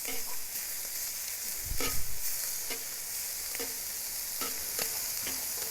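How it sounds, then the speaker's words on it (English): Prawns sizzle in butter in a cast iron pan, a steady bright frying hiss with a burst of scraping and clatter as they are flipped, plus a few sharp taps against the pan; no talking. "I'm just going to flip the prawns just once."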